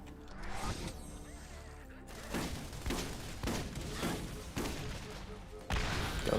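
Bursts of machine pistol gunfire in the video game Borderlands, repeated rapid volleys with loud thumping impacts at roughly regular intervals, moderately loud and partly mixed with a voice talking.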